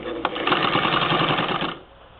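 A 1947 Singer Model 66-16 sewing machine fitted with a ruffler attachment runs in a steady, fast whirring burst after a brief click, then stops, leaving faint room hiss.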